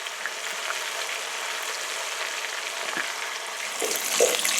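Pieces of venison browning in a hot pan give off a continuous, dense hiss of sizzling fat, close and steady throughout, swelling slightly louder toward the end with no one talking.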